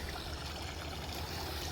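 Water flowing steadily over a backyard pond waterfall built from set rocks, a continuous soft rushing and trickling wash with no breaks, heard fairly close and alone.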